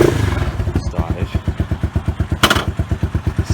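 A Lexmoto Venom 125 motorcycle engine running just after starting, heard up close and loud. It has a steady, rapid thumping idle rhythm, with a brief hissing burst partway through.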